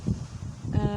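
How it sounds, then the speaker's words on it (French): Strong outdoor wind buffeting a microphone, low rumbling gusts that swell and ease over a second, with a voice briefly breaking through near the end. "Je pense qu'il y a beaucoup de vent, donc vous m'entendrez pas trop."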